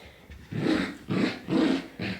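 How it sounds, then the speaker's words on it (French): Dogs play-growling nearby in a home, a series of about four rough, throaty growl bursts in a steady rhythm with brief gaps between them. "Et ça, en fond, c'est les chiens. Ils font n'importe quoi."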